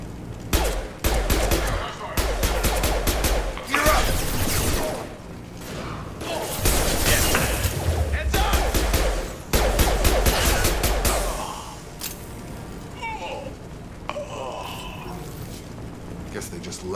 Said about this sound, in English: Blue Suns and Vorcha shooting anything that moves.